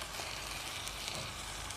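Chicken mixture with chicken spices, cinnamon, ginger, salt, pepper and chicken stock cube frying in a pan and being stirred, a steady close sizzle throughout.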